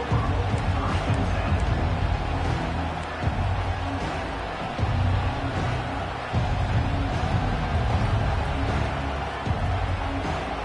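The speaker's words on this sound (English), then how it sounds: "This crowd, full throat, splitting the eardrums" Football stadium crowd roars in a steady, dense wall of cheering that runs unbroken throughout, loud and distant-sounding, with a commentator's voice faintly mixed in.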